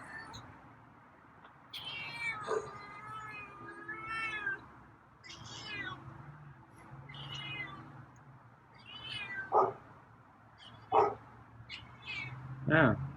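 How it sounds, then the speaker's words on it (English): A feral cat named Meowy meows repeatedly at a door at night, several drawn-out, wavering cries spaced across a quiet background, moderately close and sometimes fairly soft, with a few sharp knocks or bumps in between. "Oh, you're meowy tonight."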